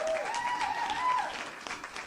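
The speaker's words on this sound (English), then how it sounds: "I redeem an applause for me by myself." Applause sound effect triggered as a redeemed reward on a live game-development stream, a short burst of crowd clapping with a faint whistle-like tone, moderately quiet and without talk.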